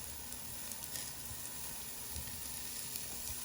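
Garlic sweats in butter in a pan with a faint, steady, soft sizzle and light crackle, low and continuous, with no voice over it.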